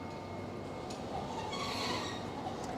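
Tokyo Sakura Tram on the Arakawa Toden line, a single-car streetcar, rolls past with a steady rumbling drone and a brief metallic squeal rising midway, heard up close amid street ambience.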